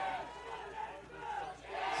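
A loud crowd of spectators at a girls' state softball tournament game in Iowa roars and shouts, a continuous dense wash of voices that swells near the end.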